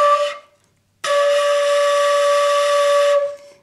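Shakuhachi flute sounding a D note, a brief breathy tone that cuts off, then a longer sustained, steady note with airy breath noise, played alone and close.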